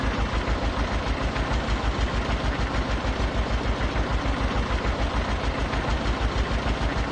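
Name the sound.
tractor engine idling, Farming Simulator 22 video game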